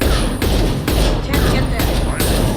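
Heavy gunfire in Mass Effect 2, loud continuous battle noise with repeated thudding blasts roughly every half second, dense and close throughout.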